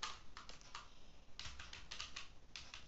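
A computer keyboard being typed on while entering a command, a few quick bursts of crisp key clicks separated by short pauses, close and quiet.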